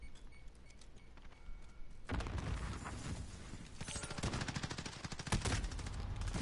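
Rapid automatic gunfire in Call of Duty: Modern Warfare, starting abruptly after a quiet stretch and continuing as a loud, dense rattle of shots with mechanical clacks, no talk over it.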